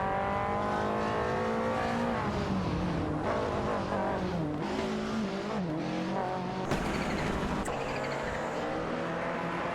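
Toyota Celica and Lancia rally cars race hard, engines wailing and shifting pitch through gear changes, with tire squeal and a sharp burst near the end, loud and steady.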